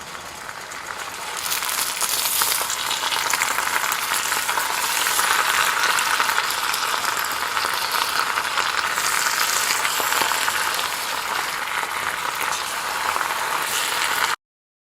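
Spinach cooking down in a pan sizzles loudly and steadily, a dense, continuous frying hiss that holds nearly unchanged for the whole stretch before stopping abruptly.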